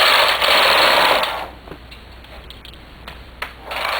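A knitting machine carriage is pushed across a row in a loud, close whirring rush that stops, then a few light clicks and a second rush begins.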